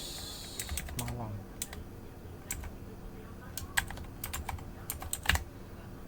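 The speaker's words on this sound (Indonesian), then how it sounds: "terus ketikkan Bandung terus" Rapid clicking of computer keyboard keys in irregular bursts, fairly close, with a voice speaking briefly over the typing.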